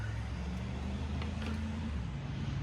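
A KitchenAid immersion blender motor runs steadily with a constant low hum and whir, loud and unbroken, with no talking.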